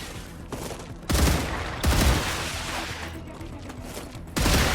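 Enemy gunfire in a video game lands as pot shots, with loud, close bursts of rapid shots erupting three times over a constant noisy battle backdrop.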